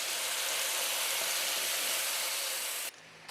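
Peaches hit a hot pan and sizzle in a loud, steady hiss for about three seconds, then the sound drops off abruptly.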